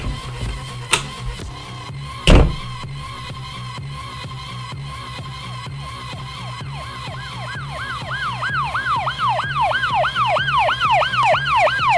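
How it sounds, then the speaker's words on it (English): A police car siren wails in rising and falling sweeps, growing louder as it approaches, after a couple of sharp knocks early on. "There's a police car out there."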